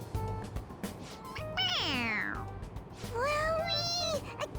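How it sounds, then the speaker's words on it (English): A stuffed toy cat in Persona 5 Royal gives two distinct electronic meows when its head is pressed, one drawn-out mew followed after a pause by a second, close and clear over a soft game background. "It meows when you press on its head."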